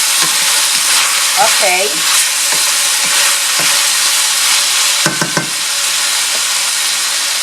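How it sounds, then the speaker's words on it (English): Pork cooking in a covered pan for pansit with shrimp and rice noodles gives off a steady, even sizzle and hiss, with a few soft clinks partway through and a brief spoken word. "I'm gonna cover the pork and allow it to continue cooking until it's nice and tender"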